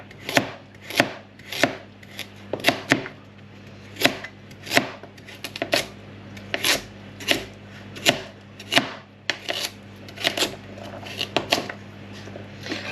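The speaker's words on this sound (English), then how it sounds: "I don't like this big knife, it's a bit big for me, but you do need that little bit of weight behind you when you're doing root vegetables" A big, heavy kitchen knife chops root vegetables on a board for a roast beef Sunday dinner, sharp close thuds coming in a fairly steady rhythm, roughly one or two per second, with no talking.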